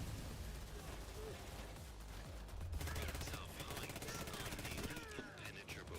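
Heavy gunfire in the video game Payday 3, dense overlapping bursts of rapid shots forming a loud, unbroken barrage that fills the whole stretch.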